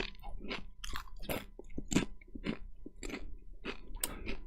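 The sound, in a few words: chewing crunchy Chipotle tortilla chips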